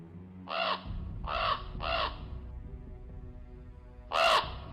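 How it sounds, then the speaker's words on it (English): A raven gives four harsh caws: one, a pause, then a quick pair, and a final caw after a longer gap. The calls sound close and clear over a low background hum. "you hear behind you, a raven, and it caws at you"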